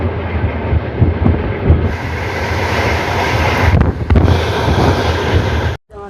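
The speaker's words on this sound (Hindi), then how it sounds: "हमारी विक्रमशिला एक्सप्रेस पहुंच चुकी है बरियारपुर" The Vikramshila Express rolls into Bariyarpur with a loud, steady rumble of wheels and carriages and gusting wind buffeting the microphone, ending in a brief sudden drop-out.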